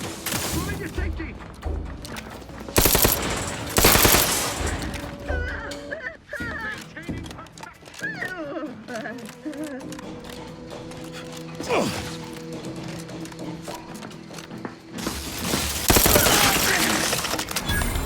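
Gunfire in Outer Worlds 2, loud bursts of shots at intervals amid mechanical clanks and creaks, with speech in between.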